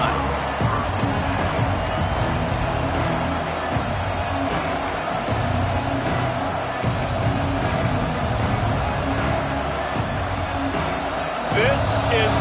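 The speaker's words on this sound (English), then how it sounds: "This crowd ready to make its presence known." Football stadium crowd in a video game cheering steadily, a broad continuous roar with rhythmic swells and a few sharper peaks, running under a commentator's voice throughout.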